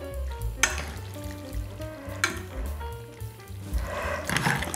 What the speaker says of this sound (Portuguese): Pegar mais um garfo para mexer a nossa massa.